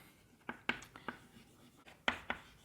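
Chalk or marker strokes on a board as a teacher writes during a maths lecture, a series of sharp, scratchy taps and short strokes in uneven rhythm, close and fairly quiet, with no talking.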